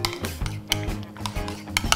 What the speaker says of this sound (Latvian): Lūk, mērci samaisu.